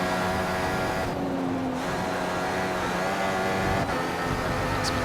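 A Mercedes F1 car in the F1 2014 racing game at the Australian Grand Prix, a steady, loud high-revving engine drone with layered tones and a brief dip as it passes.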